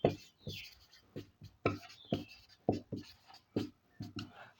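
Chalk or marker writing on a board during a class 10 chemistry lesson, a series of quick scratchy strokes in uneven bursts, close and quiet, with no voice.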